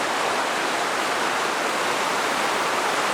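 A cold mountain stream flowing out of the mountains near Banff and Jasper, with snow along its banks: a steady, loud, broadband rush of water that stays constant throughout, with no voices.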